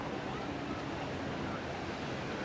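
Steady ocean surf and wash of waves at the 1985 Bondi Ironman surf race, a continuous broadband roar with some wind rumble and no clear break in level throughout.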